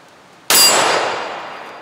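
A bullet strikes a small steel gong target with a single sharp, loud metallic clang that rings on and slowly decays, fired from a 10mm pistol at an outdoor range.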